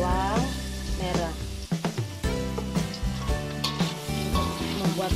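Ginger, garlic and shallots fry in a pan as the base for a salted fish sauce, giving a loud, continuous sizzle under a person speaking.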